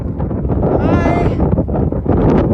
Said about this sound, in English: You guys enjoying the wind?